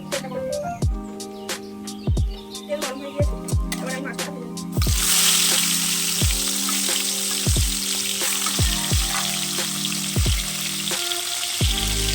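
Fish frying in hot mustard oil in a kadai for a Bengali mustard fish curry makes a steady sizzle and spatter. It turns louder and denser partway through, with repeated sharp clicks and knocks from cookware over it.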